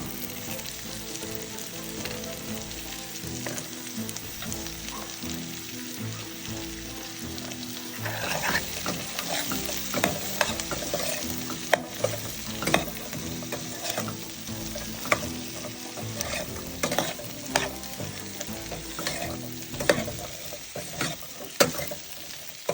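Broad beans frying with onions in a pan for a ginger curry, a continuous close sizzle that grows busier midway, with repeated scrapes and taps of stirring and no speech.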